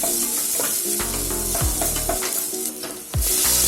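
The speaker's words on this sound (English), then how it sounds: "Now I am adding the chopped onions and mixing it well." Chopped onions sizzle steadily in hot oil in a home kitchen pan. A spoon clanks and scrapes against the pan in several loud, uneven strokes as the onions are stirred.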